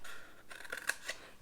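Scissors cutting score lines into paper for an Andes Mints shadow box, a short run of close, crisp snips coming faster toward the end, with no voices.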